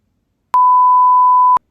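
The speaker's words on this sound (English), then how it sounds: "Oh, I got a notification from Letterbox." A Letterboxd app notification chimes on a phone as one steady, clean electronic beep lasting about a second, loud and alone in otherwise silent surroundings.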